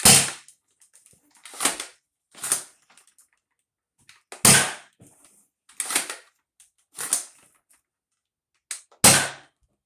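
A tuned Dart Zone Pro 1.2 foam dart blaster firing, eight sharp, loud snapping shots at irregular intervals, each followed by a brief mechanical rattle as it is primed again.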